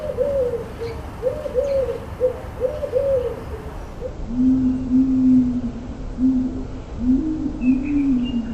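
Wood pigeon cooing slowed to half speed, a deep, drawn-out series of soft hooting phrases in a repeated rhythm, fairly clear against a faint outdoor background with no talking.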